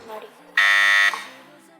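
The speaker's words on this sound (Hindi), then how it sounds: "बजर बजा" A quiz show buzzer rings during an Iftar transmission quiz, a loud, steady electronic tone lasting about half a second, with faint background voices before and after.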